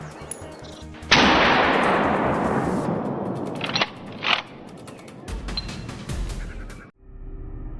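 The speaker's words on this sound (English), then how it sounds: "dropped it with a flawless shot" Single loud rifle shot fired at a wild boar on a mountain slope, a sharp blast followed by a long decaying rumble and echo, then a couple of brief sharp clicks and handling noises.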